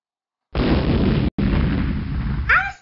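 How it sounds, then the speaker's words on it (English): Big Bang explosion sound effect: a sudden roaring blast that sustains for about two seconds with a brief cut, ending in a rising, fading whoosh. "The universe was formed during a giant explosion event called the Big Bang"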